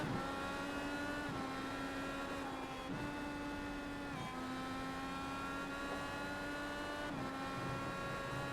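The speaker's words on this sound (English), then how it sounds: "Daladone there just switching down a gear just to pull the nose back in again." An IndyCar engine drones steadily and loudly at Road America in a racing video game, with several brief dips and rises in pitch as it shifts down through the gears, heard close and without any talk.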